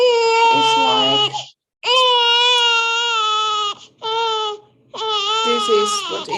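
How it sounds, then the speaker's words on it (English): A recorded infant cries in loud, harmonic wails broken by short gasping pauses, four sustained bursts in close succession with no other sound. "this is what infant crying is like."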